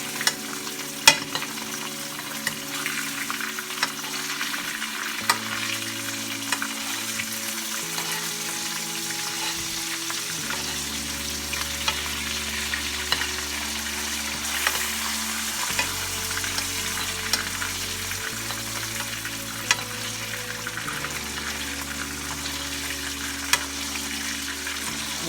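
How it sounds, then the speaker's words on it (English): Garlic butter ladled over a T-bone steak frying in a pan, giving a steady loud sizzle throughout with scattered sharp spits and crackles, while a musical backing plays beneath. "you just ladle that garlic butter right on top of it"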